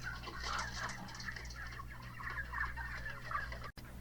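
Broiler chickens on a farm make a busy mix of clucks and chirps over a low steady hum, moderately close, with a brief thump near the end.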